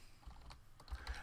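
Names being typed on a computer keyboard, a quick irregular run of soft close key clicks at low volume with no talking.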